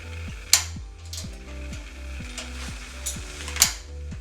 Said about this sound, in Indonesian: nyalakan api